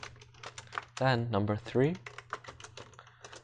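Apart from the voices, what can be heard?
typing on a computer keyboard into the command prompt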